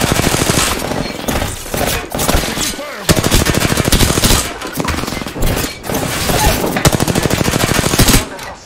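Sustained automatic gunfire from hostiles in a first-person shooter video game, loud, dense and continuous, with rapid bursts and volleys layered over each other throughout and brief gaps between strings of shots.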